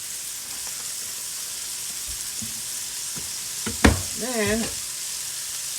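Oil sizzling in a pan with floured bay scallops, a steady bright hiss throughout, with a short clatter and a brief spoken word near the end.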